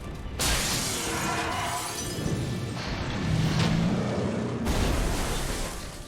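Glass shattering in Final Fantasy XIII, a loud broadband crash that bursts in suddenly and holds as a dense crackling wash for several seconds before dropping away, then returning.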